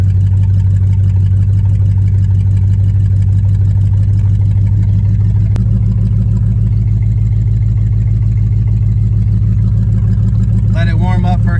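A 1983 Oldsmobile Cutlass engine idles steadily after a cold start with its automatic choke working, a loud, close, continuous low rumble with an even pulse throughout, and a brief voice near the end.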